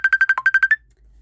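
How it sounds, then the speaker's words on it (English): A phone rings indoors with a rapid burst of about nine bright electronic beeps in quick succession, clear and fairly loud, then stops, leaving near silence. "So I do apologise for the phone going constantly then"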